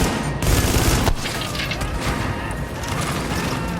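Grenade blast in The Division during a firefight at the WarrenGate Power Plant: a loud booming burst with crackling debris, followed by rapid gunfire and mechanical clatter that keep going in the background.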